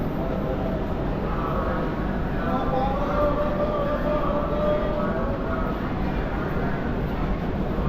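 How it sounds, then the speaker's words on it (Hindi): A passenger train standing at Pune Junction station, a constant low rumble and hum with faint tonal squeals, steady and fairly loud throughout without talking. "यहाँ पे भी खाली 5 मिनट्स के लिए रुकने वाला है ट्रेन।"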